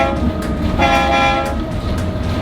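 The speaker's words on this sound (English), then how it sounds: "Can I try blowing the horn?" Steady horn blast from a Mount Washington Cog Railway train on its mountain climb, a loud, sustained harmonic tone that holds for the full few seconds.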